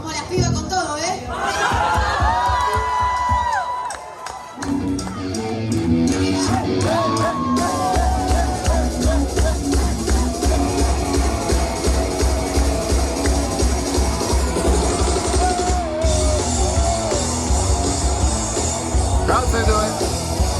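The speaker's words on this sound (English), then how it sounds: "Crowd's into it." A concert crowd at a cover performance cheers and shouts over loud, continuous music, the roar of voices sustained throughout.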